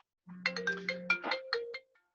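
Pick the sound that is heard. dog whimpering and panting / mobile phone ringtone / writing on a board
mobile phone ringtone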